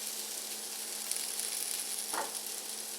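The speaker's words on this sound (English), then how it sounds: "3 diced up medium-sized russet potatoes. Throw them in there." Three diced medium russet potatoes fry in a hot pan, a faint steady high sizzle with one brief soft scrape or shuffle partway through.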